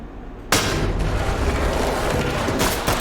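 A stinger grenade in the Ready or Not game detonates with a sudden loud boom that cuts in after a short quieter lead-in, then rings on as a sustained, dense roar filling the rest of the moment.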